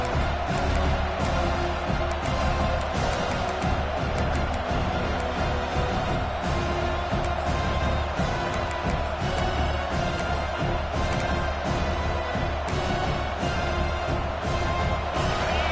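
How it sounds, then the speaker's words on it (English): A home crowd at a football game keeps up a steady roar of cheering and noise throughout, dense and continuous, with scattered louder swells and no clear voice on top. "this home crowd is fired up and ready to make a difference today"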